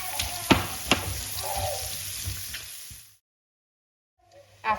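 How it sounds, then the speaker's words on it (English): Shallots sizzle in a pan with caramelising food, a steady frying hiss broken by a few sharp knocks of stirring, then a sudden silence and a brief return of sizzling. "we're going to add the shallots and cook them until softened"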